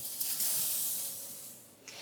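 Steam hissing out as the lid comes off a home canner full of jars, a steady breathy rush that fades toward the end with no talk.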